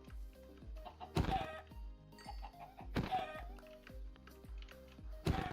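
Minecraft chicken clucking: short pitched squawks under gentle game music, broken by three sharp thuds of a stone axe at roughly two-second intervals.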